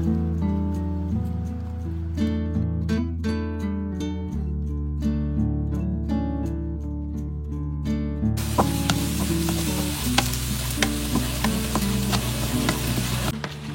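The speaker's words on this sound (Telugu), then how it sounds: "సో మనము చికెన్ స్టాక్ లోంచి కాస్త లైట్ గా బాయిల్ చేసిన చికెన్ తీసుకొని మనం ఉల్లిపాయలు పచ్చిమిరపకాయలు మసాలా అంతా వేసి సెపరేట్ గా ఇట్లా పాన్ లో ఫ్రై చేసుకోవాలి." Boiled chicken with onions, green chillies and masala sizzles in a pan, a soft hiss that swells in the second half beneath steady background music.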